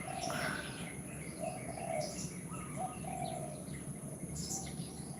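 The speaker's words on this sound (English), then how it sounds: "chatting to you guys with the fucking birds tweeting" Birds tweet and coo outdoors, with faint scattered chirps and calls over a steady background hiss and no talking.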